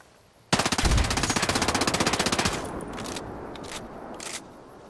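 Rapid automatic gunfire in Ghost Recon Breakpoint, aimed at the front of a helicopter: a loud, dense burst of quick shots for about two seconds, then the sound trails into fainter rumbling and scattered impacts.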